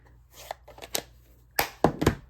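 A blade trims a thin strip off Stampin' Up! cardstock for a Valentine's card, close crisp slicing and scraping strokes in a few short bursts, with a couple of louder cuts near the end and no talk.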